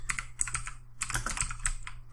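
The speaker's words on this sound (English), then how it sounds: "I don't know why my typing is so slow right now." Quick bursts of typing on a computer keyboard, clicking keys in uneven clusters with short pauses between, close and fairly quiet, no voices.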